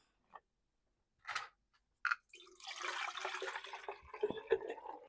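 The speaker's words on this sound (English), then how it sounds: "we're gonna do a little watering now" Houseplants being watered indoors, with a few sparse drips and taps followed by a steady soft pour of water, faint and close, ending in a couple of small splashes.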